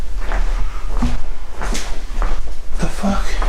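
A door creaks and knocks open inside an abandoned building, a few close wooden thumps and scrapes amid a low hum, while people talk nervously nearby.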